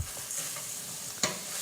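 Rice sizzles in a pan of olive oil with browned chopped onion and Tuscan sausage, a steady soft frying hiss broken by a few scrapes of a spoon and one sharper stirring clack.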